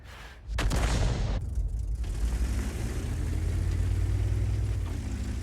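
A heavy tank gun fires in World of Tanks, a single deep distant boom followed by a long low rumble and engine drone in a hilly battle.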